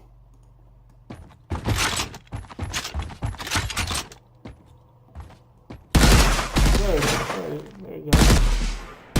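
Rifle gunfire from a Mixamo character in an Unreal Engine third-person shooter kit, loud bursts of rapid shots repeating across the clip, with a brief spoken word partway through.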